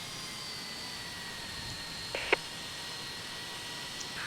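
In Tower! Simulator 3 at Vancouver International Airport, an airliner's engine roar holds as a steady distant jet hiss, with a couple of brief faint clicks along the way and no speech.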